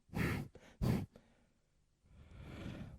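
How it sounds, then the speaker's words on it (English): Forceful breath-of-fire pulses through the nose during a Kundalini yoga session: two sharp loud exhales, then a smaller puff, a pause, and a longer softer breath, all close to the microphone with no talking. "Pulse through the nose in our breath of fire"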